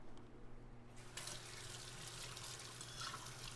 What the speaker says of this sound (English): I'm just rinsing the butter off my hands now.